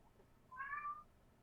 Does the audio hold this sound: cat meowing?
yes